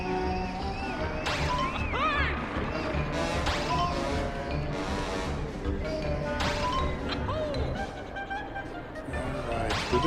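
Repeated crashing and smashing impacts as a vehicle plows through glass and obstacles in Banjo-Kazooie: Nuts & Bolts, several hits spread across the stretch over busy game music and whooshing motion.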